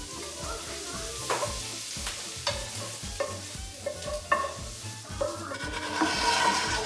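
A flour mixture is stirred in a pan, with repeated scraping strokes in a steady rhythm over a soft sizzle, close and clear.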